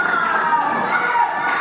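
A wrestling crowd at a UK Wrestling show cheering and shouting loudly and steadily, high voices prominent, with no commentary over it.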